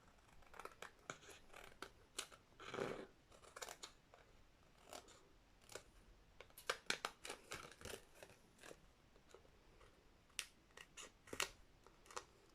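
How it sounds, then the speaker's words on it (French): Scissors snipping through a very thick rhodoid acetate sheet for a Halloween shaker card, a series of close, sharp crunching cuts coming in irregular bursts, with no talking. "je vais venir tout simplement après, avec le ciseau, couper tout ce qui dépasse du rhodoïde"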